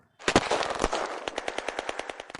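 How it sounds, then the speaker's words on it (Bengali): Loud, close bursts of rapid automatic gunfire at night: a dense rattle of shots, then a steadier run of evenly spaced rounds. "সবাই আতঙ্কে দিগ্ভ্রান্ত হয়ে চারিদিকে গুলি ছুটতে লাগলো"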